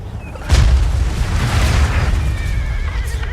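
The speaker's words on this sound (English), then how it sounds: "bombardment is coming in from these rockets here" Rocket artillery bombardment in Napoleon: Total War, with a sharp boom followed by a dense, sustained rumble of incoming fire and battlefield noise, loud and continuous.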